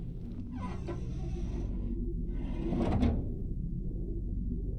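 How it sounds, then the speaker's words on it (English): A floor winch in a video game cranks a sliding door open, giving a steady low rumble and grinding drag with a louder scraping surge near the end as the door slides, with no voices. "Working the winch will open the door."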